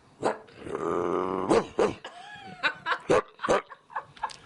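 A man imitates a dog with his voice, drawing out a long growling whine and then a string of short barking yelps.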